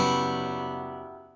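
A single electric or acoustic guitar strum lets an unmuted G string ring out with the other strings, giving a bright chord that decays smoothly over about a second and a half, alone and close.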